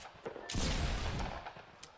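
Bursts of gunfire from a Fortnite match at a TwitchCon 2018 Fall Skirmish tournament, a loud sustained volley after scattered shots, with no talking.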